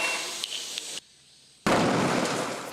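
A butane gas can explodes in a safety test, sharp loud bursts with crackle, a brief gap of near silence, then a sudden roaring blast that continues strongly to the end.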